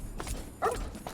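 A dog barks in the game Fallout 3, a couple of short, sharp yips at moderate distance over low background ambience.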